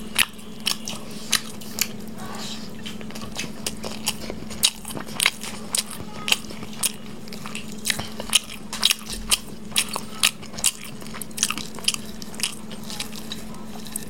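Roast chicken breast pieces eaten with hot rice and egg curry, close up: steady, regularly spaced wet bites and crunchy chews repeating through the whole stretch, with no talking.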